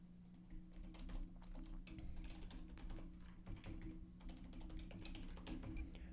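Rapid, steady keystrokes clatter on a computer keyboard as numbers are entered during live Kotlin coding, quiet and close, with a constant low hum underneath and no talking.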